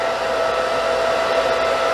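A handheld blow dryer runs steadily at close range while a stylist dries a client's hair during an A-line haircut, a continuous loud whirring rush with a faint steady tone, unbroken and with no talk.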